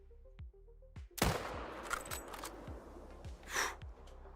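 A long-range rifle shot in the hunting video game theHunter: Call of the Wild: one sharp, loud blast about a second in with a broad ringing tail, then quieter game ambience with soft repeated thumps.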